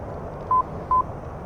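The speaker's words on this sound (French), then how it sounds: "Comme vous l'entendez là, j'ai pas oublié, j'ai mis le son de l'ILS" ILS navigation tone in the DCS World flight simulator, flying over Nevada: two short, identical steady beeps about half a second apart, clear over a faint background hiss.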